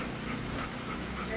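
A dog pants in quick, soft, rhythmic breaths, close but quiet, with faint background murmur.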